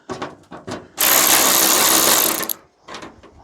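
An impact-style power tool whirs and rattles loudly for about a second and a half while undoing bonnet bolts on an Allis Chalmers B tractor, with short mechanical clicks before and after.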